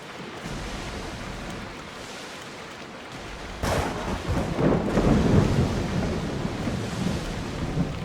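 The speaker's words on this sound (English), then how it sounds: "Look at that storm!" A thunderstorm at sea rolls through the Assassin's Creed Odyssey game world, with constant rain hiss and wash giving way to a sudden louder thunder crack and rumbling swell midway.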